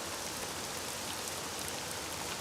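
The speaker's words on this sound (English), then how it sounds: "it rains all the fucking time here" Steady rain falling in a theme park management video game, a continuous dense hiss of drops with no pauses, no talking.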